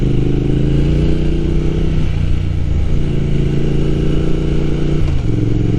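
A motorcycle engine drones loudly and steadily during a ride, with wind noise and two audible gear shifts where the pitch drops.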